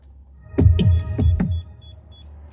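An Audi R8 fitted with a Starline i96v2 immobiliser sounds a series of close, resonant thumps or clunks followed by faint high electronic bleeps inside the car, with no talking.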